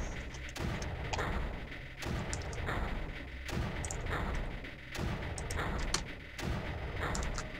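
Mortars fire in the Creeper World video game, a series of heavy thuds and booms spaced about a second apart, each followed by a brief rumbling tail, moderately loud with no voice over them.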